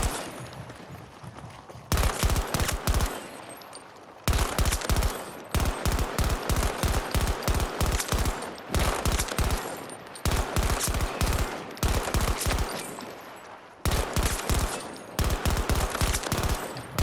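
A G47 rifle in Battlefield 2042 fires in rapid bursts, sharp cracking volleys broken by short pauses, loud and close and repeating for the whole stretch.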